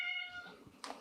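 A pet cat named Crowley gives one short, close meow with a clear tonal cry that fades into a breathy tail.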